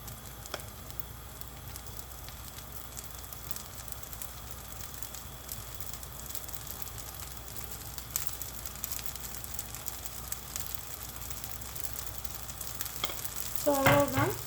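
Vegetable-topped uthappam sizzles steadily on a hot pan after a drizzle of ghee, giving a continuous close crackle and hiss with a few brighter pops near the end.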